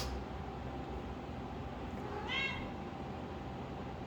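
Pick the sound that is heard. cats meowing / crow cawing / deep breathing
cats meowing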